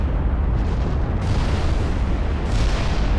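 Heavy battleship gunfire from the naval combat game Ultimate Admiral Dreadnoughts, fired during a broadside duel: a loud, continuous low rumble of booming salvos that rolls steadily without a break.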